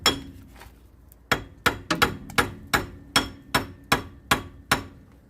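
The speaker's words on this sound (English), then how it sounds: "I'm going to just finish it off with hammering" Repeated metal hammer blows knock a wheel hub off the knuckle of a 1999 Jeep Cherokee XJ 4WD, about a dozen sharp ringing strikes in a steady, slightly uneven rhythm, loud and close, no talking.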